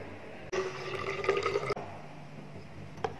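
Turbid water poured from a measuring cylinder during a chemistry lab separation exercise, a steady close splashing trickle lasting about a second, then quiet with a small drip near the end.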